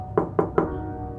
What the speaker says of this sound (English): I walked up the path and knocked.